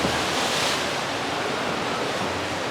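Waves rolling through a wave pool at Therme București, a large indoor spa complex, make a steady, full rushing wash of water that stays at an even level throughout, with no voices on top.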